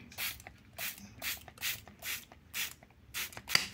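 A trigger bottle sprays cleaning liquid onto a white Asics mesh sneaker, giving about eight close, evenly spaced hissing spritzes in a steady rhythm, each short and bright, with faint rubbing in between.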